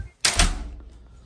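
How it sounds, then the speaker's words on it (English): An Otis Elevonic 401 traction elevator door at the Hilton Atlanta Airport slides shut and lands with one loud, close thud, followed by a low rumble that fades over about a second. "we'll close the door now"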